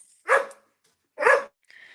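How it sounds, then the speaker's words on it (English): A dog gives two sharp barks about a second apart, fairly close and loud, with a short faint yip after. "yo, tell your dog to shut up"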